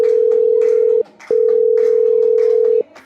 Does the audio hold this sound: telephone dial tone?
yes